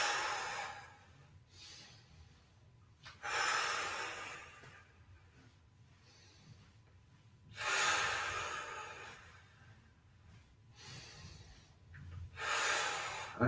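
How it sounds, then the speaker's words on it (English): Slow, deep breaths during a shiatsu exercise, four long airy inhale-exhale swells spaced a few seconds apart, close and fairly quiet with soft low room noise between them. "nice deep breaths"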